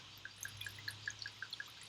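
Wine is poured into a glass for tasting, heard only as a faint run of small, evenly spaced liquid plinks and drips over a quiet room hum.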